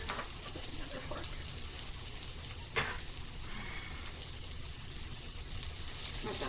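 Onions, peppers and home-fried potatoes sizzle steadily in a hot pan, a continuous close crackle with one sharp clink of a utensil partway through and a louder surge of frying near the end.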